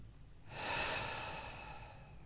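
A single slow breath, drawn in through the nose and let out through the mouth, rising softly and then fading as a close, airy rush with no talk.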